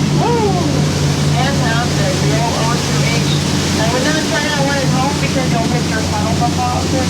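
Waterfall on the Disney World Jungle Cruise ride, a steady loud rush of falling water heard up close, with a voice talking over it and faint boat engine rumble beneath.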